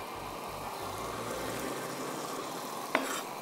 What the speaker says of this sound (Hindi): थोड़ा सा और इसको भूनते हैं